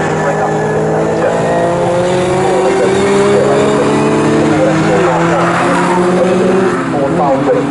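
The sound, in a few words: touring race cars, Ford Falcon and Ford Escort, racing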